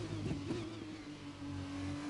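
A Formula 2 race car engine in F1 2021 on the Emilia Romagna circuit, heard in 3rd gear, gives a steady, loud, tonal drone that swells and eases slightly through a corner, with no talk.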